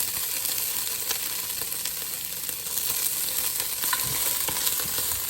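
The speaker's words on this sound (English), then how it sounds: "So, I want to fry that a little bit in the oil here." Anchovy fries in hot oil, giving a continuous dense sizzle with scattered crackles and pops, close and steady throughout.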